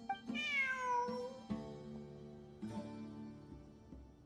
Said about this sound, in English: Look, a cat.